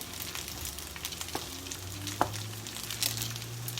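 Vegan beef pieces tossed into fried rice sizzling in a hot pan, a steady close crackle and hiss with a few sharper clinks and stirring scrapes, no voices.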